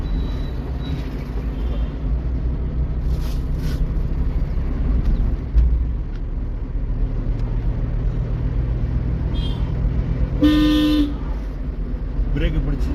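A car pulls away during a driving lesson, its engine rumbling steadily under an instructor's talk, with a short honk near the end.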